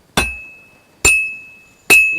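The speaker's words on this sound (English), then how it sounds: "I have to hammer it more evenly." Three spaced hammer blows on metal at a blacksmith's forge in Kingdom Come, each a sharp, close, ringing clang with a sustained metallic tone that decays before the next strike, at a slow uneven pace with no talking.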